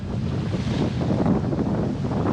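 Strong wind buffeting a sailboat with a reefed main and jib on rough open ocean, a continuous loud roar of gusts and rushing waves with no break.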